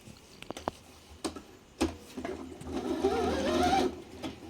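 A table-top sewing machine stitches in a steady whirring run after a few separate clicks and taps, loud and close, with no talking.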